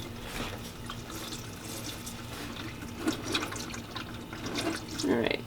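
Dirty engine oil drains from a Subaru WRX in a steady trickling stream, with a soft splashy flow throughout and a few louder bursts of liquid near the end.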